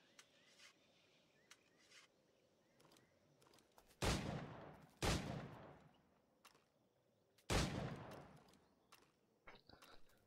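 Gunfire in Assassin's Creed IV Black Flag, heard as three loud, sharp blasts with decaying tails against a quiet game background, separated by a few seconds, with small clicks and taps between.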